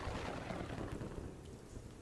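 A thunderstorm overhead: a steady wash of rain with low rumbling thunder all the way through, faint and distant in tone, with no voices.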